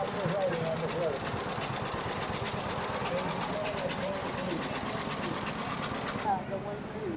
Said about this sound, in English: The tractor driven by Jared Seabright, provided by Mark Nelson.